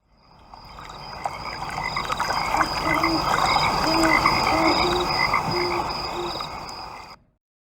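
Frogs croak continuously while fighting in South Dakota: a dense chorus of loud, nearby croaks and trills that overlap steadily for about seven seconds before stopping abruptly.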